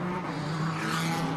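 GT race cars at the Lausitzring ADAC GT Masters race pull away together on their formation lap, a dense, steady roar of many engines with faint tyre noise and no voices.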